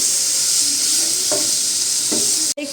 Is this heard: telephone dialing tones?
no